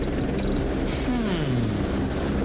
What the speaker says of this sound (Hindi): ये क्या है? एक हेलीकॉप्टर?